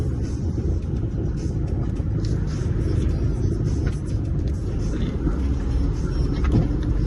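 Heavy low rumble of a truck on the road, close and continuous for the whole stretch, with a brief dip partway through and faint higher clatter above the steady roar.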